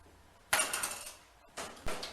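Yeast being stirred into a wild blueberry mash with a spoon, two bursts of scraping, clinking stirring against the container, close and fairly loud with brief quiet between them.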